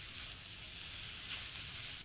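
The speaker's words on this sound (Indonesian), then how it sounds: "Terakhir, masukkan aneka sayuran yang udah kita siapkan tadi. Aduk rata dan masak bentar sampai semuanya pas." Vegetables for mie goreng stir-fry in a wok with a dense, continuous hiss of sizzling, loud and close, ending with a faint clunk.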